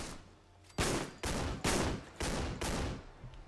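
Rapid heavy blasts from an AA-12 automatic shotgun in the video game Fallout 4, about five loud booming shots spaced roughly half a second apart, each with a short decaying tail, close and alone without talk.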